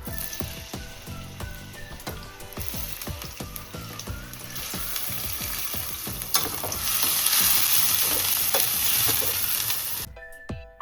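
Onions sizzle and crackle in hot oil for a shark fish puttu curry, a loud, dense frying hiss with scattered pops that swells louder toward the end before cutting off abruptly; no talking.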